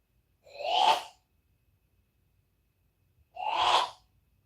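Two separate human sneezes about three seconds apart, each a brief breathy burst, close and clear against a quiet room.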